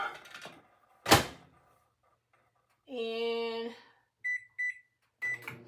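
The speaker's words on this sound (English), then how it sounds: "Melt it in the microwave." A home microwave oven used to melt butter: a thunk of the door closing, a few button beeps, then a steady hum while it runs and more beeps after; a brief spoken word opens the sequence.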